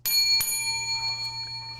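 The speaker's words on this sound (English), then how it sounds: "The loudest that bell has ever been." A bell on a sports talk show gives two bright, ringing strikes in quick succession, loud and close, the metallic tone lingering and slowly decaying afterward.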